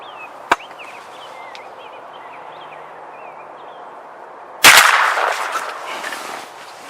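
During a New Hampshire turkey hunt, a single loud shotgun blast bursts out close by after a quiet stretch of birdsong and a faint earlier click, then a rattling echo trails off.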